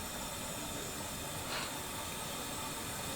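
Steam from an onsen hot spring in Gunma, Japan, hissing steadily as a broad, constant wash of noise, with a brief slight swell in the middle and no speech.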